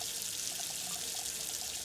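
Water runs from a tap in a video game as a character takes a drink, a steady close trickle and splash that flows continuously for a moment.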